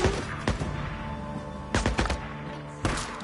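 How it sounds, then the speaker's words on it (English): Enemies fire guns at the player in the Days Gone video game, sharp bursts of gunfire cracking out in a few separate volleys, loud and close over a low ambient rumble. "they're shooting me behind this sign, but I can't shoot back"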